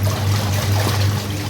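A hose pipe sprays water over a scooter being washed, a steady close splashing hiss under a constant low hum, with no talk.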